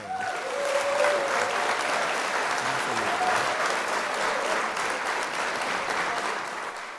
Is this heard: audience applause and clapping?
yes